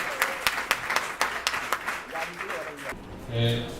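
A crowd applauds for a commune mayor in a burst of brisk clapping that trails off after about three seconds, followed by a short, faint tonal sound.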